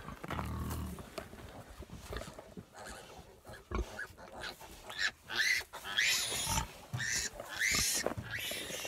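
Newborn piglets in a farrowing pen, their squeals and grunts rising in bursts that turn shrill and high toward the end, with some rustling and brief movement noise in between.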